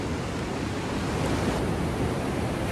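Pacific Ocean surf washing in beside a small cave at El Tunco, El Salvador, a steady broadband roar of breaking waves that holds close and loud throughout with no pauses, with no voices over it.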